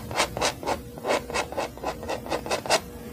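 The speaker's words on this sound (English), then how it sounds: "you scrape off the excess paint" Repeated scraping strokes of a palette knife dragging excess paint off a wet canvas, about a dozen rhythmic rasping passes close up, with no talking.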